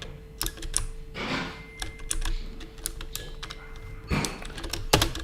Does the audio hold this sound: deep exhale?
no